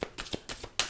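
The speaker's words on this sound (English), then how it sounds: "I'm feeling called to shuffle some tarot first." Tarot cards shuffled by hand in a few quick riffling bursts, close and fairly soft, with short pauses between each flurry of card noise.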